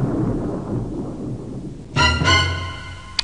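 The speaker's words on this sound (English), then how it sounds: "Lightning can actually strike and kill a oxen." Rolling thunder from a lightning storm in The Oregon Trail video game, a low rumble that swells into a loud crack partway through, then fades with a brief sharp tick at the end, with no voices.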